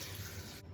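Water pours steadily into a blender of overnight-soaked almonds to make almond milk, a continuous close splashing stream that stops abruptly near the end.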